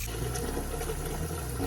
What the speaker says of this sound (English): I just fill up a pot of water